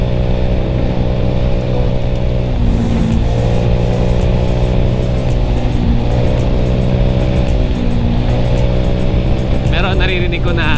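A Honda BeAT v3 scooter's engine runs steadily with a constant hum and shifting tones, and a voice speaks over it throughout.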